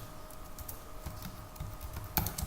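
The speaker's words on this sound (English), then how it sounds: "And then I'll type a message into them" Keys clatter on a computer keyboard as a short message is typed, a steady run of light, close taps with one sharper stroke near the end, no voices.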